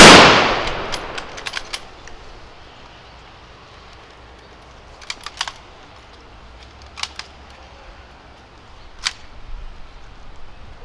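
Outdoor Veterans Day salute: a rifle volley cracks sharply, then further volleys ring out at intervals of a couple of seconds, each a cluster of near-simultaneous shots echoing in open air.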